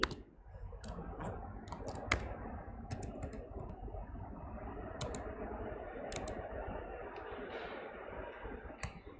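Steady typing of code on a computer keyboard, a dense run of quick clicks and key taps at close range with a few sharper strikes, no voices.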